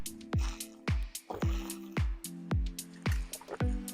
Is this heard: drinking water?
yes